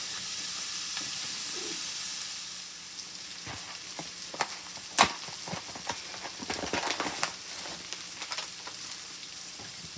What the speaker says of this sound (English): get these green peppers cooked down